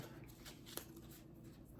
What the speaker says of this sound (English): I like these cards, the way they shuffle, they're real easy to shuffle